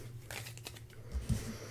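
A deck of board game cards is shuffled, giving soft papery riffling and crinkling close by, with a slightly louder flutter of cards near the end.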